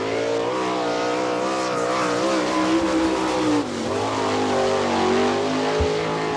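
Race car number 121 laps a dirt track at an All Star Circuit of Champions event in Attica, Ohio, its engine a loud, steady, close roar that rises and falls slightly through the corners.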